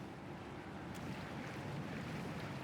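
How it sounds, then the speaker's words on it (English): A titanic column of swirling water holding up the center of an arena in the game Pillars of Eternity 2: Deadfire, heard as a steady, dense rush and roar of churning water and wind, continuous and enveloping throughout. "buffeted by the titanic column of swirling water that holds the center of the arena aloft"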